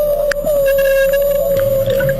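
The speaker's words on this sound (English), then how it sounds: "This is the sound of a humpback whale hunting." A hunting humpback whale, recorded underwater, holds one long sustained tonal call with faint higher overtones and scattered clicks behind it.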